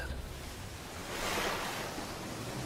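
Strong water waves surge with a steady broadband rushing roar that swells briefly louder midway, heavy and continuous with no voices.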